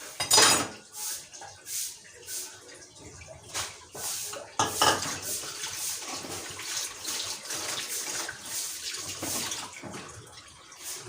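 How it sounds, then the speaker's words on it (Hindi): Dishes, pots, utensils and children's lunch boxes and bottles are washed at a kitchen sink, with repeated clattering and clanking against running water, close and busy throughout, and a voice occasionally audible underneath. "मैं अब बाकी जो है बर्तन साथ में वो बर्तन धो लूँगी।"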